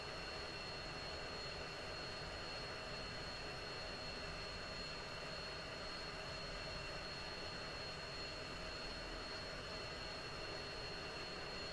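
A steady, continuous jet engine whine and rumble from an aircraft taxiing in the Falcon BMS flight sim, droning evenly at moderate level with no talk.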